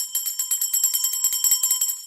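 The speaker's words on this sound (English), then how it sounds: "I know you hate that bell, Arctic." A bright metallic bell trills rapidly in a continuous ringing alert for about two seconds, clear and alone, sounded for an incoming super chat.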